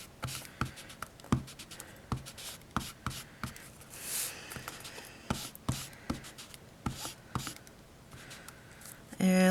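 Distress ink applied directly to paper during card making, heard as close, irregular dabbing and rubbing taps on a craft surface, with a louder clunk at the end.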